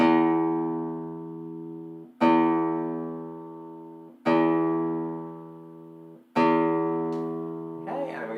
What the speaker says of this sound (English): So here's our bottom E string.